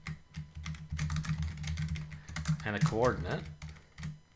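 Computer keyboard typing while coding, a steady run of quick key clicks close by, heard under someone talking throughout.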